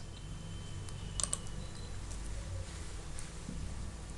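Computer keyboard keys tapped while a command is typed in AutoCAD, a brief cluster of light clicks near the middle of the clip over a low steady room hum.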